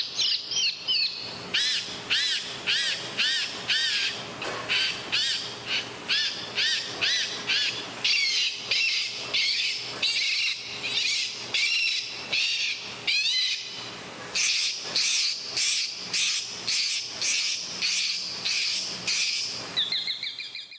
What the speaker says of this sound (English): The sound from all the birds was incredibly loud.